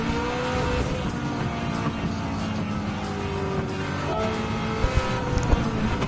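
Race car engines revving and changing pitch as gears shift in a Supercars racing game on Dragon Trail, a dense continuous roar of several cars.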